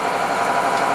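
A Case International 7120 Magnum tractor's engine idles steadily, a continuous low rumble with a mid-range hum, close and fairly loud, with no voices over it.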